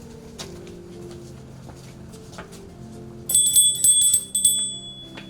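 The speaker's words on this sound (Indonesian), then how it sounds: "Kita bel dulu yuk." Children ring a small bell at a church children's service, a bright, sustained high ring that comes in short bursts near the end over a quiet room with faint background noise.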